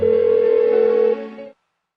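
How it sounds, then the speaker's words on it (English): A telephone in Persona 4 Golden gives a steady, unbroken electronic ring tone that holds for about a second and a half and then cuts off into silence, with no voices. "Why won't she pick up the phone?"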